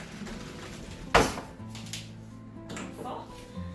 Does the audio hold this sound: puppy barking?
no